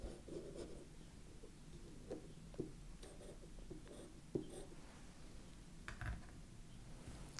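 A pencil scratches and a compass point scrapes across paper, soft close strokes and rubbing marks in short uneven bursts, faint and quiet.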